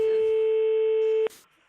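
A steady electronic telephone tone sounds on a line during a call, a single loud continuous beep lasting over a second before cutting off abruptly, followed by quiet line noise.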